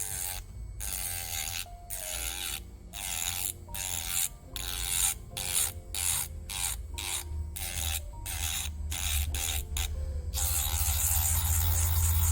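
A pocket nail drill at speed 1 files a nail, giving a close, steady motor whine broken by a rapid run of short grinding and rasping bursts, with no talking.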